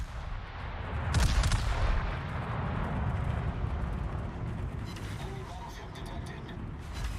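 Naval gunfire from an experimental French cruiser in World of Warships firing gold experimental ammunition, a loud booming salvo near the start over a steady rumbling engine bed, with a voice talking underneath.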